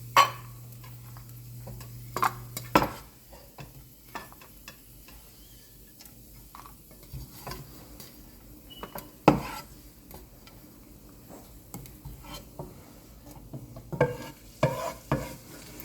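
Food frying in a pan while being stirred for pineapple kesari, with soft sizzling under scattered scraping and clinking of the spoon against the pan, a few sharper knocks standing out.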